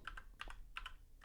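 Quick keystrokes on a computer keyboard in a quiet room, about five or six crisp clicks in short bursts, close and distinct with no talk.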